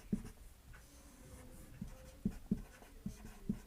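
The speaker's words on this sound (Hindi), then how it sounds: "बोर्ड पर लिखता हूं मैं नाम" Chalk writes on a classroom board in a chemistry lesson, with several short distinct taps and scratches at irregular intervals, fairly close, and no talking.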